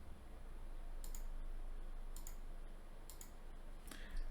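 Faint computer mouse clicks come in about four quick double clicks spaced a second or so apart, over a quiet background hiss.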